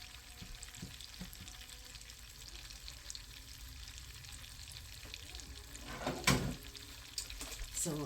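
Soya chunks frying in butter on a stove over very low heat, a quiet, steady crackle that runs throughout and swells briefly near the end with a few brighter pops.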